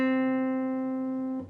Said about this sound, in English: Then play the 5th fret of your G with your pointer finger.